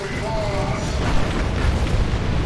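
Grenade launcher barrage from Dawn of War 2 Elite Mod, a sustained rumbling wash of blasts and booms in a busy real-time strategy battle, with a steady loud roar and a voice speaking over it.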